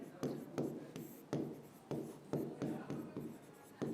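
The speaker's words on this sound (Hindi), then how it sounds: "यहाँ लिखेंगे हम पर्यावरण ही" Pen writing text in a notebook during a Class 10 Sanskrit lesson, a series of short scratchy strokes in an irregular rhythm, close and quiet.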